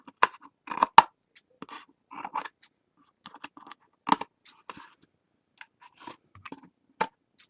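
Scissors trim overhanging paper from the edge of a mini album cover after burnishing, giving a scattering of short, quiet, close snips and scrapes with pauses between cuts.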